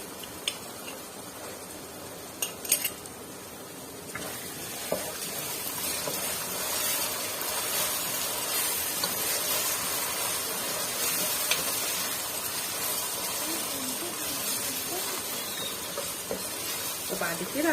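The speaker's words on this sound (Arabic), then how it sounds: "بحب الصلصه تاخد بس ايه تشويحه كده على النار" Tomato paste sizzles and hisses in a hot pan over the flame, a steady broad frying noise throughout with a few sharp clinks of stirring near the start.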